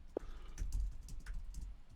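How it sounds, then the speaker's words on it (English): Typing on a computer keyboard during a tabletop role-playing session, a quick close run of soft key clicks with one sharper tap at the start. "I don't like that you're typing."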